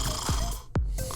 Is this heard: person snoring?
yes